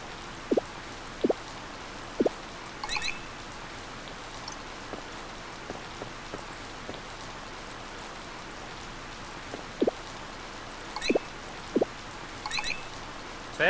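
Rain in the video game Harvest Moon Light of Hope: a soft, steady wash of falling rain with scattered louder drip-like ticks at irregular intervals, quiet and without talk.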